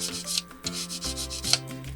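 A metal upgrade part for a WPL C74 JA11 Jimny RC model rubbed with 400-grit sandpaper: short, close back-and-forth scraping strokes in a steady rhythm.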